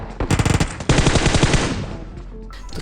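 Bursts of automatic gunfire in the battle royale video game PUBG: a fast rattling volley, then a second sustained burst that trails off into quieter echoes.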